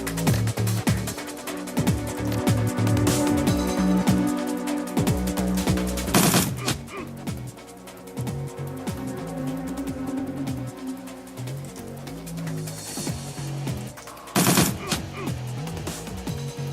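Rifle and automatic gunfire in the video game Shadowrun Returns, dense bursts of shots crackling over game music, with two sharp loud blasts standing out, no talking.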